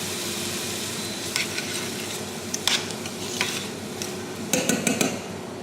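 Raw, uncooked potatoes sizzling in a pan in a Strasbourg restaurant kitchen, a constant close fry hiss broken by several brief scrapes and clinks of stirring.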